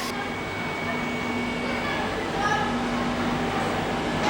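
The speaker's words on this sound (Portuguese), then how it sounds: "o comboio suburbano CP Lisboa, procedente de Mirasinha, Melessas e com destino a Lisboa, Oriente, vai dar entrada na linha" A CP Lisboa suburban train pulls into a station with a continuous loud rumble and mechanical drone, a steady whine riding over it, while a voice speaks through the noise.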